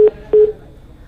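Two short electronic telephone line tones as a caller's line drops, clear beeps close together, then quiet line hiss.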